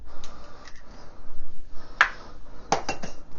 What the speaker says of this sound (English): I'm going to crack 2 eggs into a large cup